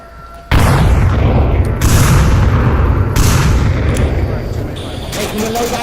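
A sudden loud boom of a grenade in the VR shooter Onward, followed by sustained rumbling blasts and gunfire, with players talking over the noise.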